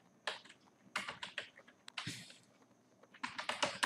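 Close, clicky typing on a computer keyboard while entering Urdu text, with quick bursts of keystrokes separated by short pauses.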